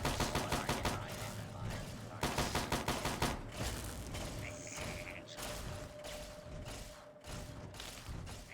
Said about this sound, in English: I bet they're all shooting each other now.